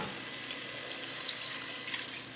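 About four cups of chicken broth pour into a pot in a home kitchen, a steady, fairly quiet liquid splashing stream with no talking.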